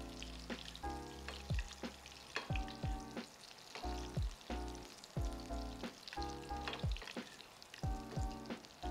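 Salmon grilling in a hot pan, a close continuous sizzle broken by irregular scraping and clattering handling noises, with no talk.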